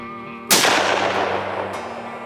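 A single loud rifle shot fired at a big six-point buck during a ground deer hunt in a flooded slough, bursting sharply and trailing off in a long, rolling echo over a faint steady hum.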